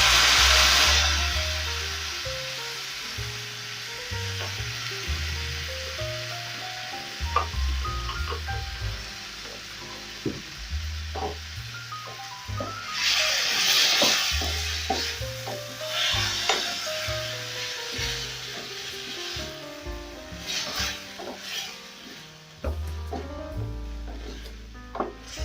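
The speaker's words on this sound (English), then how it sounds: "Add in my tomato paste." Tomato paste sizzles and spits in a pot of beef and peas stew, a steady frying hiss running throughout with scattered stirring scrapes and light knocks over a low background hum.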